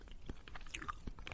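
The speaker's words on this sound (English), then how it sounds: "Are you gonna stop chewing gum?" Soft, wet chewing of gum close to a microphone, with irregular smacking and clicking mouth sounds over a steady low background hum.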